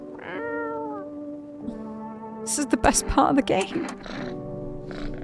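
A cat in the video game No, I'm Not a Human gives a drawn-out, close meow at the start, followed by a person talking over game sounds.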